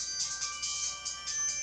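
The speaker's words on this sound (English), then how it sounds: "Phone's ringing." Phone ringtone playing alone, a bright electronic warble pulsing in quick repeated bursts, fairly close and steady.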